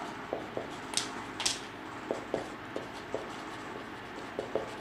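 Chalk or marker writing on a board during a physics lecture on ferromagnetism: a run of light, evenly spaced taps and short scratchy strokes, near and steady, with no talk over them.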